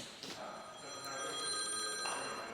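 A telephone rings from an unknown number in a car workshop, with an electronic ringtone chirping in repeated tonal bursts at moderate volume against faint room noise.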